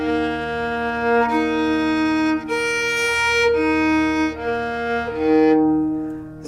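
Four open violin strings bowed one after another in Carnatic tuning over a steady tambura drone pitched to D sharp, sustained harmonic tones changing every second or so, close and clear with no talking.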